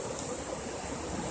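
River water flowing around Island Park in Bryson City, North Carolina, a steady broadband rush heard briefly, close and even, with no voices.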